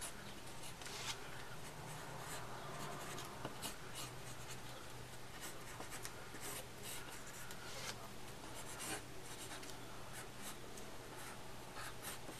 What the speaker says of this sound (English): So I'm just going to draw in her hairline.